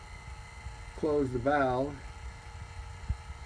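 A vacuum pump evacuates the air conditioning system of a 2002 Subaru WRX during a condenser replacement, giving a steady low electric hum throughout while someone speaks over it.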